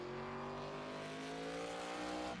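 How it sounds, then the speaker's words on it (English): Race car engine in the iRacing SRX game holds full throttle, a steady, loud, high-pitched drone with strong harmonics that rises slightly in pitch and then cuts off abruptly at the end. "I hit full throttle."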